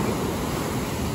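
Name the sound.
ocean waves surging toward the shore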